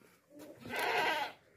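A single goat, a healthy dairy-type animal, lets out a close, wavering bleat that swells and fades over about a second, with a short softer sound just before it.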